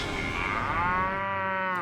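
A cow moos on a ranch in Fort Worth, Texas, one long, loud, close call with a rising then steady drawn-out tone lasting nearly two seconds, with no other voices.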